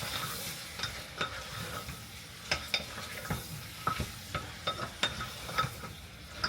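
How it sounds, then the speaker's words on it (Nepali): A spoon stirs turmeric into mutton curry frying in a pan. Irregular metallic scrapes and taps sound over a soft, continuous sizzle, close up and fairly quiet, with no talking. "बेसार हालेर चलाएँ।"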